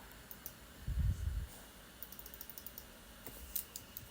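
Someone types on a computer keyboard in a quiet room. The keys give faint, irregular light clicks, with a brief duller thump burst early on and scattered ticks after.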